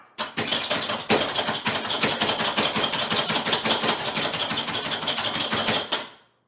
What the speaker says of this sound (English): It's like a little automatic chopper machine, okay?